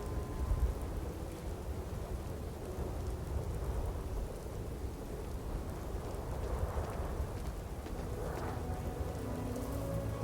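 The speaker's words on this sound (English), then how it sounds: "Some sort of storm" Stormy weather in the video game Starfield, a steady dense wash of rain with low rumbling thunder rolling underneath throughout, loud and continuous with no voices.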